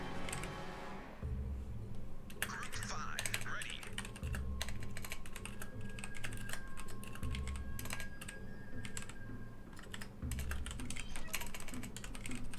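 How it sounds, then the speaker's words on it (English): Keys clatter on a computer keyboard in quick irregular bursts, fairly close, over a steady low background hum from a naval strategy game. "I will remember how to type."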